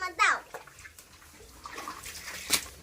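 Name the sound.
child washing dirty shoes with water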